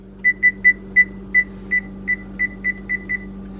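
An oven timer's buttons are pressed, giving about eleven short, sharp electronic beeps, close and clear, with uneven spacing that speeds up toward the end over a faint steady hum.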